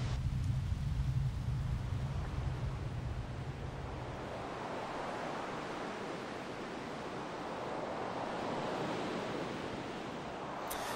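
Ocean waves wash and surge in a Final Fantasy X HD Remaster game scene, a steady broadband roar of surf that holds at a constant level for the whole stretch, with a low rumble fading out early on.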